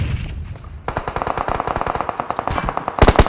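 Rapid automatic gunfire in the battle royale game PUBG Mobile during a pro scrim match, dense bursts of loud shots with a short pause, then a heavier, closer volley at the end.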